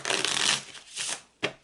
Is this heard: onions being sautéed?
no